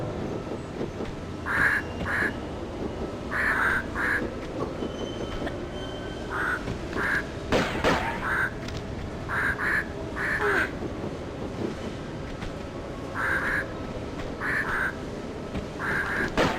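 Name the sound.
birds in the video game Tomb Raider 2 Remastered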